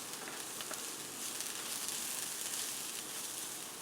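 Garlic sizzles in a hot pan alongside onions, a steady dense crackle and hiss that holds evenly close by, with no voices over it.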